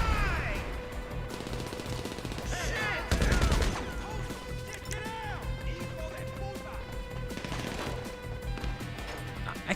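Enemy gunfire in GTA Online, a sustained rattle of automatic shots with a heavier crash partway through, loud and dense over a busy game soundscape with no clear speech.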